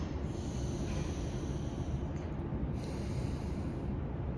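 A person breathing in through an aromatherapy inhaler, a long steady airy inhale close to the mic lasting several seconds with no talk.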